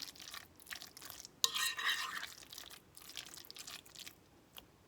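Egg salad of chopped eggs, mayonnaise and dill relish stirred in a bowl, soft wet squishing and scraping strokes close by with one sharp tap of the utensil, no voices.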